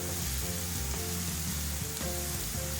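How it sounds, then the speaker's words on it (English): Finely chopped onions saute in hot oil with a steady, dense sizzle that hardly changes, and faint music plays under it. "Now let's saute the finely chopped onions in hot oil until they're golden."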